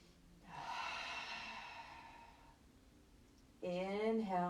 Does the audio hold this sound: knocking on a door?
no